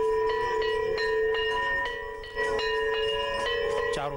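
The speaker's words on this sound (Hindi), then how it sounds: "आरती के दौरान पूरा सरयू घाट घंटों, घड़ियाल और शंख की ध्वनि से गूंज उठा" Temple bells ring repeatedly in a steady rhythm during evening aarti at the Saryu ghat in Ayodhya, loud and sustained metallic tones layered together, with a rising conch-like call near the end.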